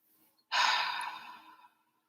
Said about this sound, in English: And breathe out.